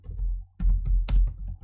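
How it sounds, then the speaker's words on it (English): Keys on a computer keyboard are pressed as Shift Enter in a Jupyter notebook, giving a few firm, close clacks spaced across the moment with quiet gaps between them. "we press Shift Enter on the keyboard"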